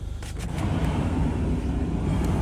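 A 2021 Ford Transit Connect Limited van with 39k miles starts up, its engine catching and settling into a low, steady idle rumble, moderately loud and close, with no talking.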